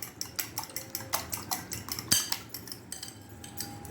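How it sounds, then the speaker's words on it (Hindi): Eggs being beaten with red chilli powder, black pepper and salt in a bowl, a fast, steady run of metal utensil clicks and clinks against the dish, close and fairly quiet, with one sharper clink partway through. "हम पहले अंडों को अच्छी तरह से बीट कर लेंगे"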